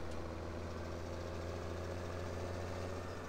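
A Fin 300 tractor in Farming Simulator idles at a steady low diesel rumble throughout, close and unchanging.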